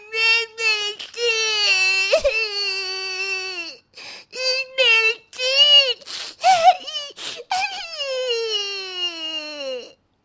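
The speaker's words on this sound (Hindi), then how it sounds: "बेटी की रोने की आवाज आती है।" A young girl cries and whimpers loudly after eating vegetables spiced with chili, sobbing wails broken by short gasps and pauses, close and alone.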